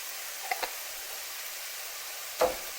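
Chicken, mushroom and gnocchi with parmesan and garlic are stirred in a hot pan, a soft steady sizzle broken by a few short scraping knocks of the utensil.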